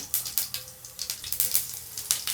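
Mustard seeds and cumin crackle in hot oil for a green pea masala curry, giving quick, irregular pops and sizzles that repeat close up over about two seconds.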